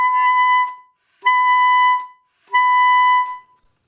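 An alto saxophone sounds three sustained altissimo G sharp notes, each held for under a second and separated by short breaths, played loud and close with a clean, bright tone.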